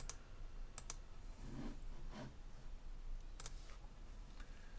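A few sparse computer keyboard key presses click faintly in a quiet room during Blender modelling work, isolated taps with a soft background hiss and no talking.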